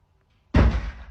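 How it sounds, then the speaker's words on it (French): A single hard bang on a door: a sudden loud thud with a short booming resonance after near silence, close and unaccompanied by speech. "Vas-y, tape. Tape sur la porte."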